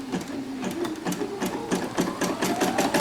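A Poolin embroidery machine stitches yellow flowers, its needle hammering in a quick, steady rhythm with a mechanical whir underneath, close and continuous with no talking.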